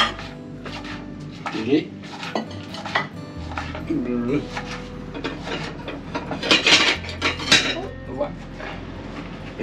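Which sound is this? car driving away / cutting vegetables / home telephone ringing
cutting vegetables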